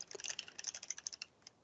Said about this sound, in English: using a particular keyboard shortcut, which is Control, Shift, and plus